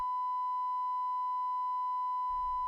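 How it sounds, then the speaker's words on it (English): Steady pure test tone at about 1 kHz from a loudspeaker, set up for checking a sound level meter, holding unbroken and even for over two seconds before a brief low rumble at the very end. "Play the tone out of the speaker."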